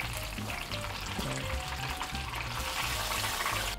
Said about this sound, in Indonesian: langsung kita ke proses penggorengan